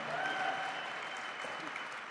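Sustained applause from a crowd at the Bitcoin 2025 conference, a dense steady wash of clapping at moderate level throughout, with faint voices mixed in.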